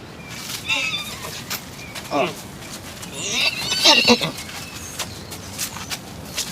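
A horse neighs in a short whinny near the middle, with soft hoof shuffles and a lively bed of background chatter running throughout.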